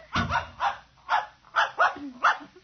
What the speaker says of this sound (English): I'm going to introduce you to my puppy dog, Mr. Blister, so be good.